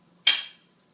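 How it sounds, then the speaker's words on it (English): A knife slices through a freshly cooked griddle scone, giving one short crisp scrape that fades within about a quarter second, close and clear in a quiet kitchen. "I like to cut it in half with a knife."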